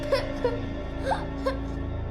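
A girl whimpers and sobs in short, breathy cries inside a ruin, in a crime drama scene, the cries close and repeated over a steady background hum.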